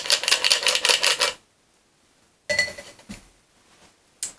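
Large ice cubes clinking and clattering into a glass while a Mai Tai is made, a bright rattling burst followed by a pause, then a few more clinks and a final tap, close and clear.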